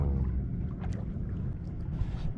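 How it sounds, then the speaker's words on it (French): Low rumble of motorboat engines and water noise around a sailboat on the sea, many fishing boats nearby, a steady dull drone with some wind, no talk. "il y a vraiment beaucoup de bateaux moteurs à la pêche là"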